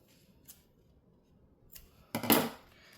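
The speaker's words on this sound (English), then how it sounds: "Just make a little snip." Scissors make a sharp, close snip into fabric at a center mark for a beginner zipper pouch, a crisp burst following a couple of faint earlier ticks in a quiet room.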